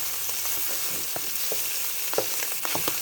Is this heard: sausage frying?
yes